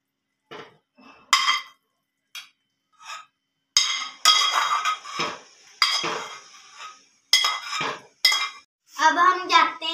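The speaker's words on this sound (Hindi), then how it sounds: "अब इन्हें हम प्लेट में डालते हैं।" Cooked noodles being served onto a plate with bursts of clinking cutlery and dishes, the scraping and tapping coming close and in irregular clusters with pauses between them.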